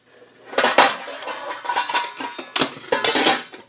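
Metal lid clattering onto a pan of escarole being water-sautéed without oil, a run of loud, close clanks and clinks in several bursts, with no voices.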